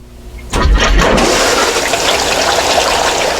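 A new Gold Fox Lil Monster trommel switches on at about half a second, with a broad, steady rush of running water and machine noise that stays loud and constant to the end.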